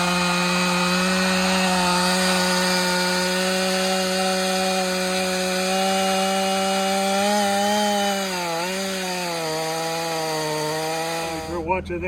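Stihl 500i chainsaw cutting through a huge tree, a loud sustained engine whine held near-constant for twelve seconds, dipping briefly under load before cutting off abruptly at the end.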